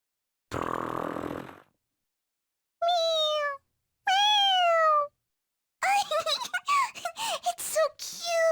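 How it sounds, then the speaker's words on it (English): A toy cat in the video game Persona 5 Royal lets out several electronic meows in short bursts, first a lone noisy burst, then two drawn-out meows and a quick string of chirpy ones. "it's just a toy. It meows when you press on its head."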